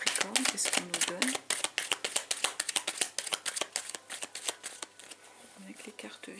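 Tarot cards are riffled and shuffled close to the microphone in rapid, crisp bursts of papery flicks, while a voice talks softly underneath.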